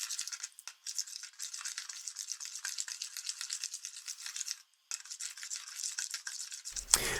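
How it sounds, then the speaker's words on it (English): A utensil stirs liquid in a bowl to dissolve yeast for Christmas bread dough, giving a steady, close scraping swish that runs continuously with a couple of short pauses before a sharp knock at the end. "So I add some of the liquid just to dissolve the yeast"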